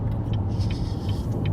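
Steady car interior rumble in heavy rush-hour traffic, a continuous low engine and road drone with faint higher noises from surrounding vehicles, no talking.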